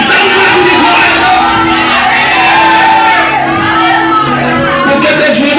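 A church congregation erupts in a loud, sustained mass of shouts and whoops, many voices crying out together for several seconds.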